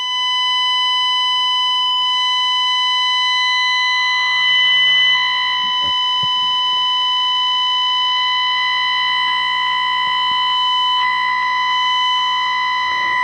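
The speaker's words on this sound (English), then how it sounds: "This is the garbage that's left after the fundamental's been removed." Leftover distortion from a Zenith 5R20 amplifier, with its 1 kHz test tone nulled by a Heathkit IM-58 distortion meter, forms a steady, loud, shrill harmonic whine. Faint clicks and crackles pass beneath it.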